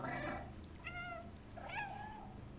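A cat meowing in the video game Stray, three drawn-out meows in quick succession, clear and fairly close over a low background drone.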